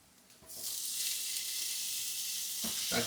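Tomatoes drop into a hot pan of butter chicken roast and burst into loud, steady sizzling, preceded by a quieter lead-in, with a couple of stirring scrapes near the end.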